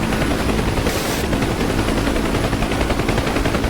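Sustained machine gun fire rakes a Huey UH-1 helicopter in the DCS combat flight simulator, loud, dense rapid bursts over the constant whine and rotor roar of the aircraft, with no break throughout.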